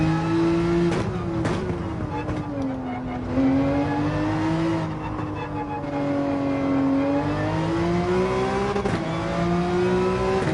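Porsche 911 in Gran Turismo 7 holds a loud, steady engine drone on track, pitch sliding up and down with throttle and gear changes, broken by a couple of brief sharp shifts.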